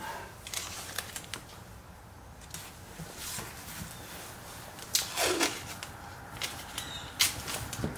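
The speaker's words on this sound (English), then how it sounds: "Okay, so I'll put a little tape on this." Tape is pulled off a roll and pressed down over a badge area in scattered crackly rips and tearing bursts, with one longer stretchy peel partway through, close and fairly quiet.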